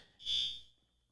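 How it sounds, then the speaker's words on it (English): A fire alarm sounds in a short, fairly loud piercing electronic burst that swells and fades within about a second, with no other sound around it. "Sound like there was a fire alarm going off"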